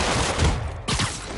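Video game gunfire from enemies, a dense rapid burst of shots that drops away briefly then resumes, loud and close.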